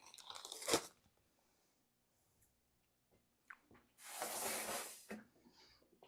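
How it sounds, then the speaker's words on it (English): Someone munches on sweet, sugar-rubbed pork ribs close up, with a crisp crunchy bite, a quiet pause, then a longer stretch of wet, squishy chewing. "I'm just over here munching away"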